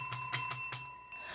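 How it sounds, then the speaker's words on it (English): A bell signalling a two-minute warning rings four quick, bright, evenly spaced strikes, then fades into a soft ringing tail, clear and close with no talking. "we just heard the CynCity bell. That's our 2-minute warning signaling the end of our CynCity Live meeting"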